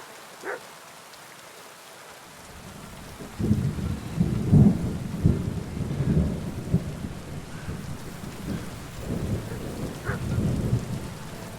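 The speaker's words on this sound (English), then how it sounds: "Damn and thunder." Thunder rumbles and steady rain falls in the medieval action RPG Kingdom Come: Deliverance II, the downpour filling the scene from about three seconds on with low rolling thunder swelling through it, no voices.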